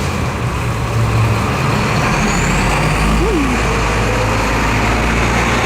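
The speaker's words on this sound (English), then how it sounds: "I know that was the brakes though" A large truck idles and rumbles loudly nearby, with a brief air-brake hiss and squeal cutting through the steady engine roar.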